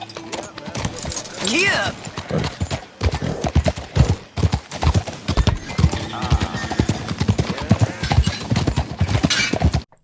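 Horse hooves clip-clopping at a steady ride toward the edge of town in Red Dead Redemption 2, rhythmic and close, with a brief spoken word and some background voices over the gait.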